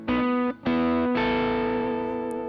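Electric bass with mild overdrive through a Bogner Synergy preamp, sounding as sustained distorted notes: two short held tones broken by brief gaps, then one longer ringing note, loud and close with no talking.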